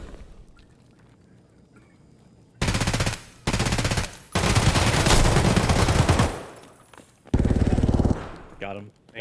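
Heavy automatic gunfire in Escape from Tarkov, loud close bursts of a few seconds each broken by short pauses, with one last burst near the end and a brief tail of other game noise.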